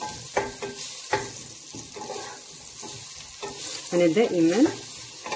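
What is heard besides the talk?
leeks sautéing and stirred in butter and oil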